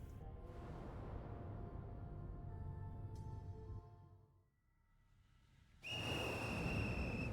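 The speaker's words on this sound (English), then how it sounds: "the monstrous little raincoat visitor blows his whistle" A monster in Ghostwire: Tokyo sounds a shrill, sustained whistle over a droning game ambience that dips and then swells back with a bright, piercing tone near the end.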